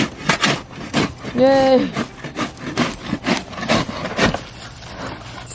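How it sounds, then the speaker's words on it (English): Dried, caked dirt is scraped out of a chick brooder with a series of close, rough scraping strokes in an uneven rhythm, while a voice briefly speaks in the middle. "Mike's gonna go ahead and scrape it out"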